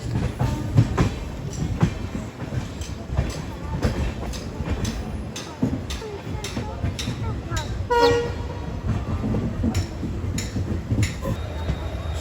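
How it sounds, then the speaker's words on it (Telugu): Train at Kharagpur junction with a shunting locomotive, heard from aboard the Falaknuma SuperFast Express: loud rhythmic clickety-clack of wheels over rail joints, a steady rumble and a brief horn, with people talking in between. "Shunting locomotive. ఖరగ్పూర్ జంక్షన్."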